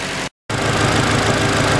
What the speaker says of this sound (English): now the idle has dropped down from over 1500 down to about 850 or so, which is normal for this car